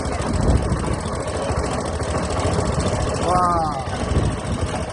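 An engine-driven machine runs at Bhanbhor with a continuous, pulsing low rumble throughout, while a person speaks briefly over it.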